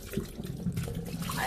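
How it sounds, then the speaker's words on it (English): Running water from a kitchen tap splashes over dried peas being washed for a Jamaican Sunday dinner, a steady close wash of liquid with soft rinsing swirls. "I am washing my pea, prepping it to get it cooked."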